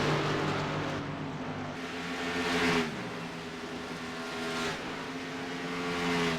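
Race cars in a sim racing series at a Chicago track accelerate and pass, engines rising and falling through gears in a continuous roar with a couple of louder swells as cars go by.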